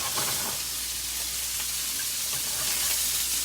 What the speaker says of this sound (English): tuna cooks quick, guys, so we're just searing on both sides